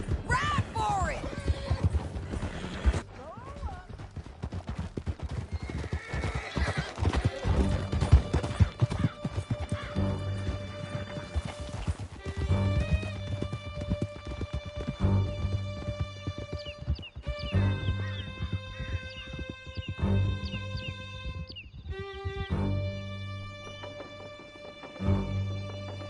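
Horses gallop hard with steady clip-clop hoofbeats and sharp neighs during a canyon chase in Red Dead Redemption 2, loud and close throughout, with voices shouting over the riding at times.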